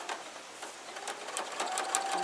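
A sewing machine stitches fabric pieces together with a fast, continuous mechanical whir and rapid needle clatter, heard close and steady throughout.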